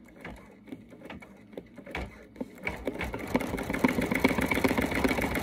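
An embroidery sewing machine stitches over a light cord, starting with sparse quiet taps and building into a rapid, steady mechanical chatter that grows louder toward the end, close and without talk.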